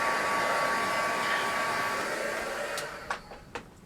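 A hair dryer blows steadily on freshly applied pearlised mica paint on an altered Christmas planter, then cuts off near the end, leaving a few small clicks and knocks.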